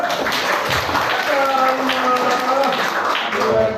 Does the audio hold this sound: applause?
yes